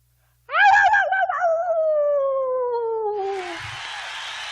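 A man imitates a wolf with one long, loud, slowly falling human howl, followed by a burst of noisy hiss at the end.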